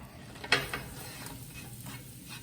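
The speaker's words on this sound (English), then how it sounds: "You just saute some onions, some green peppers" Quiet sizzle of onions and green peppers sautéing in a pan for jambalaya, with a sharp stirring scrape near the start and another soon after, then low steady frying with no talk.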